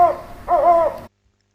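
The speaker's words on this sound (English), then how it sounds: "O is for owl." Two owl hoots, a short call followed by a longer, wavering one, loud and close, ending in abrupt silence.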